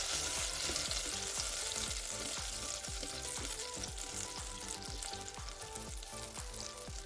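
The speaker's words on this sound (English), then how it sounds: "So I'm going to put in a tablespoon of butter. And we're going to let that melt for a little bit." A tablespoon of butter melts in an Instant Pot on saute, crackling and sizzling loudly and continuously with a dense spattering texture and no speech.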